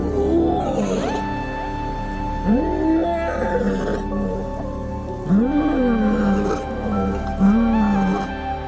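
Two large male lions roar close to a tourist car on safari: deep, moaning, rising-and-falling calls repeated several times at an uneven pace over a low, steady background rumble.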